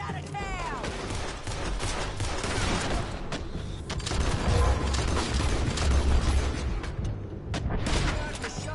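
Red Dead Redemption 2 shootout gunfire, with rapid volleys of rifle and pistol shots cracking close and far in a dense, continuous barrage and people shouting over the shooting.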